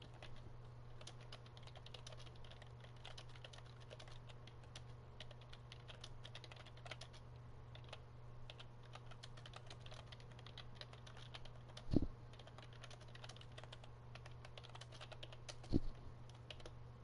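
Steady, quiet typing on a computer keyboard continues throughout as a soft, rapid patter of key clicks, broken by two sharper knocks, with no voices.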